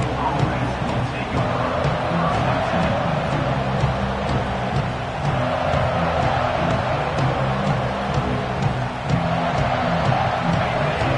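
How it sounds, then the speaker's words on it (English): A dense, steady roar of a large crowd at an American football game fills the space, constant murmur and rumble without pause, loud and distant-sounding like a packed stadium. "This crowd bringing the energy and noise early."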